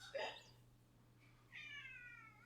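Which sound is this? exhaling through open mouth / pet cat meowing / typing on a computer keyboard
pet cat meowing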